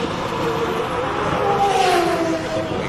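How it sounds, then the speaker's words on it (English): A Nissan hill climb race car's engine screams at high revs with a rising, sustained whine that builds toward the middle and holds steady, loud and continuous throughout. "you just get the scream of these cars because it is really, really impressive"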